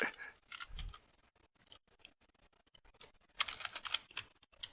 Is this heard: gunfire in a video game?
no